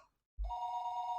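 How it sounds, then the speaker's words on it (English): A telephone rings downstairs in the game Higurashi: When They Cry, a loud electronic bell tone that starts abruptly after a short silence and holds steadily. "Phone rang noisily downstairs."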